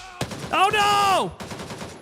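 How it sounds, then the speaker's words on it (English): Gunfire in the military shooter Gray Zone Warfare, aimed at a player through a fence. A sharp shot opens, a drawn-out voice cries out, then a rapid rattle of shots follows. "he's still shooting at me through the freaking fence"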